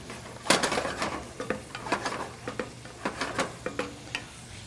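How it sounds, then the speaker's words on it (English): Lobster sears gently in a pan of canola and vanilla bean oil with a soft, steady sizzle. A utensil scrapes and clinks against the pan at intervals, close up, with no talking. "just gently searing my lobster with my canola and vanilla bean oil"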